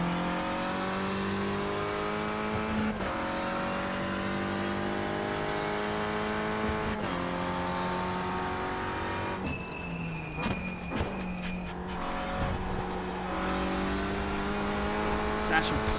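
A Renault Clio Cup race car in the iRacing sim drones steadily at high revs, the pitch climbing and then dropping sharply at several gear shifts, with a brief tyre squeal and occasional talk over the engine.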